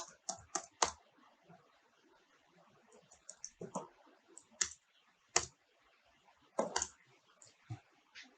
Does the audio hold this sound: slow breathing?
no